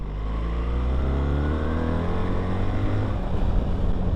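A BMW R1300 GS motorcycle accelerating at about three-quarter throttle on greasy roads, its engine note rising steadily in pitch as it pulls hard, loud and close throughout with no talk.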